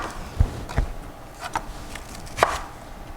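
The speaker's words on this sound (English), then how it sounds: "I'm trying to cut around the core" Knife slicing an apple around its core for an apple crisp, a few separate crisp cuts and thuds on a board, fairly close and quiet with no talk.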